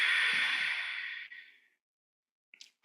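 A single breathy exhale made while lowering down in a yoga exercise for the lower back, close and airy, tapering off into silence before a faint brief sound at the end.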